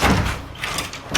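A door swings open inside a house during a power outage, a short broad burst of rattling and scraping close by with no talk over it.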